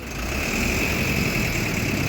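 A TNSTC government bus engine idles steadily on the route between Nagercoil and Kumuli, a loud continuous rumble with a faint steady whine above it.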